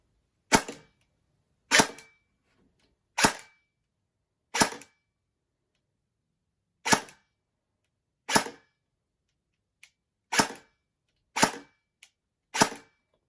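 A Specna Arms AK-105/74 airsoft rifle fires single shots on a low-powered battery, each a sharp, loud snap of the cycling gearbox, nine shots spaced a second or two apart with one faint click between.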